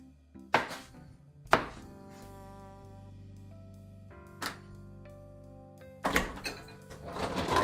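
Rough chopping of food with a knife on a cutting board for steak au poivre: a few sharp, separate thunks spaced irregularly, with steady background music between them.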